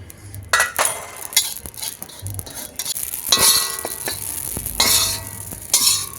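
Poppy seeds are dry-roasted in a pan while kala masala spices are prepared, with a soft crackle and sizzle, repeated metal scrapes and clinks of a spatula stirring against the pan, and irregular bursts of activity.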